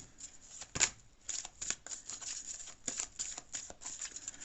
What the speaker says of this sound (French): j'ai vraiment du mal à battre les cartes en ce moment